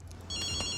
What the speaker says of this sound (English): Someone's calling this phone.